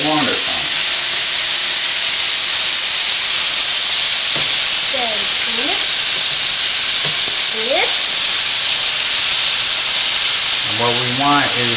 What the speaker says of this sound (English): Now, we fried the oysters.